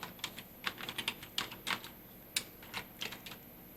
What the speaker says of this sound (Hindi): तो यहाँ पे हम लोग टाइप कर लेते हैं